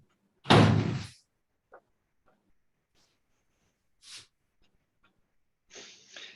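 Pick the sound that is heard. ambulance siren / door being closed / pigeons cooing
door being closed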